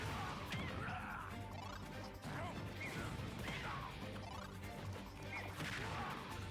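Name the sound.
Diddy Kong dash attacks hitting Lucario in Super Smash Bros video game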